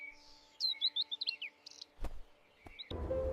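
Several birds sing in quick, bright chirps and tweets for about a second and a half, then scattered calls and a few sharp knocks follow over a faint steady hum, with no talking.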